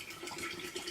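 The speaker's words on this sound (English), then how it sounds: "I'm going to go ahead and add the 4 cups of water so you can get an idea of just how full it gets the mason jar" Water is poured over coffee grounds into a mason jar, a close, continuous splashing pour that stays steady and fairly loud throughout the short moment.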